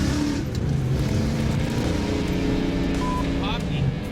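Muscle car driven hard at speed, its engine roaring loud and steady with a dense rumbling drone and faint rising pitch, people talking over it.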